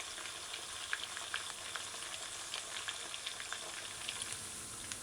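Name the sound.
fish frying in a pan for stew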